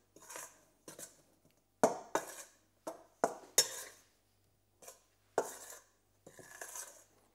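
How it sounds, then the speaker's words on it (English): A spoon stirring yeast and malt into flour in a bowl for Italian pan pizza, giving irregular clinks and scrapes against the bowl in short bursts with pauses between. "I take malt and I put it into the flour, and I start with a spoon mixing together"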